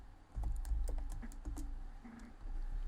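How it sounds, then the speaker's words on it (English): Quick bursts of keystrokes on a computer keyboard, close and moderately quiet, with irregular clicks and short pauses and no talking. "I'm going to type what we do as the header"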